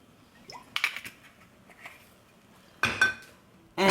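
A cooking pan holding about two teaspoons of oil is tilted and moved about to coat it, giving a few scattered light metallic clinks and scrapes, with a sharper clatter near the end and quiet stretches between.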